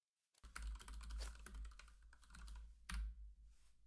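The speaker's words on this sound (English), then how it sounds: "Dude, you're so fast at typing." Fast typing on a computer keyboard, a dense rapid patter of key clicks with a few heavier thumps that could be the space bar, close and distinct, no voices.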